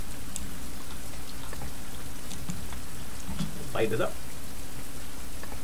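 Steady rain in the survival game Fountain of Youth at night, a constant dense patter filling the whole stretch, with someone speaking briefly over it.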